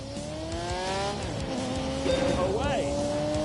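Car engine revving hard at full throttle at an airport, its steady droning pitch climbing and surging near and loud beneath a person talking.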